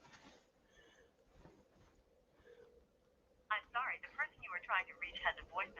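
A phone dials out for a voice call: faint, repeating electronic tones at first, then a person starts talking loudly over the line.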